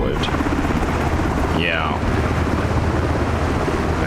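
Miltech MH-60T helicopter in Microsoft Flight Simulator 2024, a loud, constant rotor and turbine roar mixed with wind rush, continuous throughout, with a brief spoken word partway through.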